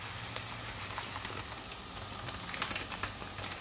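Bulgur stirred in a cooking pan with chopped green chili, a steady close sizzle with soft scraping and faint crackles throughout, no talking.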